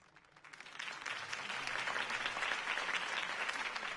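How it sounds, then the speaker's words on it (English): Steady applause from a sizable crowd at a political campaign event in the video game Batman: The Telltale Series, rising quickly from a quieter start and holding at a dense, even level throughout. "If only Mr. Wayne, my campaign's largest backer, could have heard that applause"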